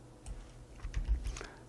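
Computer keyboard keys, including the Ctrl key, are pressed in a brief, quiet cluster of soft clicks, a few taps spread across under two seconds and close by.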